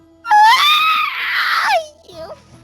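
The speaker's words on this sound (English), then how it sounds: "They hear their mom send out a blood-curdling scream." A woman's blood-curdling scream, loud and high-pitched, held for about a second and a half before breaking off, followed by a brief fainter whimpering cry.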